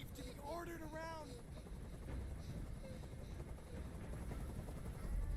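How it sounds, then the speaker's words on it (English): A helicopter overhead makes a low, steady rotor rumble and drone that continues throughout and grows slightly toward the end. A voice speaks briefly over it near the start. "Tell that helicopter to get out of here."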